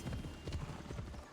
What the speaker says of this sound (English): there's not going to be any issue with my flaming horse here